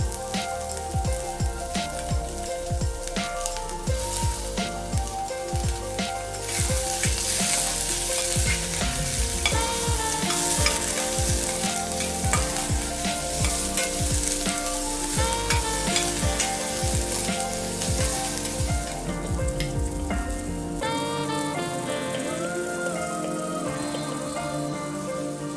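Onions fry in toasted masala and are stirred, a loud continuous sizzle with crackling spatter and scraping strokes of the spoon running throughout, easing slightly toward the end with no voices.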